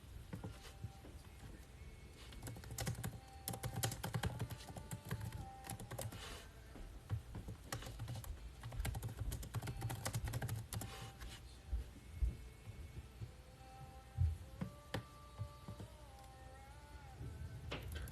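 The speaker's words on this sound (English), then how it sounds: "See, look, when I type it in, watch." Steady keyboard typing runs throughout at moderate level, dense irregular key clicks with brief pauses, mixed with low background hum and a few faint tonal electronic beeps near the end.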